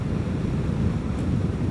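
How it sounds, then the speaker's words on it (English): Strong wind gust roaring against the rider's microphone on a Vespa GTS 300 Super Sport scooter ride, a loud, steady broadband rush filling the whole moment with no speech. "Wow, that was a big gust right there."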